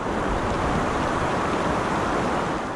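Salt River water rushing across the low-lying 67th Avenue crossing in the West Valley, a loud, steady broadband wash with no pauses, close to the microphone.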